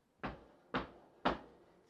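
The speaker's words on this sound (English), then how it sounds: "But a few moments later, another knock came at the door" Three firm knocks on a wooden door, evenly spaced about half a second apart, close and distinct against near silence.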